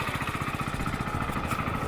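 A Hero Splendour X Tech Disc motorcycle idles close by with a steady, even, low putter of rapid regular engine pulses and no talking.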